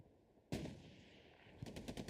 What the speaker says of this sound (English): Another explosion on the backside over here.